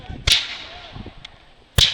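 Two sharp musket shots crack out about a second and a half apart during a Redcoats and Rebels reenactment skirmish, each a loud, close blast with a short ringing tail, with faint rustling and movement between them.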